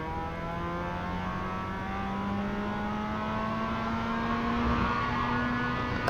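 An iRacing car engine held at full throttle through a high-speed section, one sustained rising whine that climbs steadily and stays loud and close, with no talk over it.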